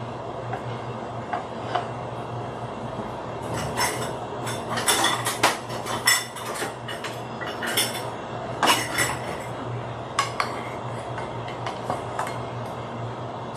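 White long grain rice being served into bowls, with a spoon clinking and scraping against dishes in a run of close, bright knocks and clatters, no voices.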